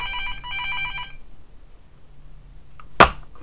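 A telephone bell rings in short bursts for about a second, then stops; a sharp knock or clatter follows near the end, heard close with no talking.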